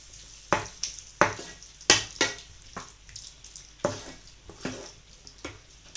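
Chicken manchurian frying in a pan with a couple of spoons of sweet chilli sauce, stirred by hand: a steady sizzle broken by a series of sharp, close scraping strokes in an uneven rhythm.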